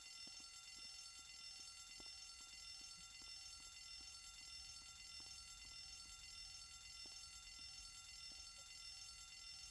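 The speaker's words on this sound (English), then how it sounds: "how did he know to set the fire alarm going?" A fire alarm rings steadily and loudly inside Grand Theft Auto San Andreas, a continuous electronic tone with faint periodic clicks throughout and no talking.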